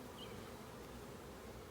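Honey bees buzz around a hive frame during a hive inspection, a steady dense drone that lasts the whole moment with no voices.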